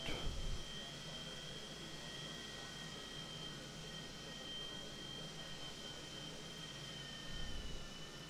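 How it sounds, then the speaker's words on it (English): The left jet engine of a Milviz 737-200 in a flight simulator spools up into a steady, broadband roar with a thin high whine, and a louder rumble sits at the start and near the end. "The left engine started as hoped."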